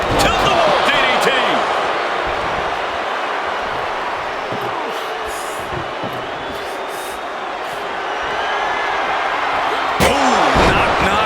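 A wrestler is dropped onto the ring mat with a tilt-a-wall DDT during a Monday Night Raw match, a loud slam under the steady roar of an arena crowd, with more impacts near the end.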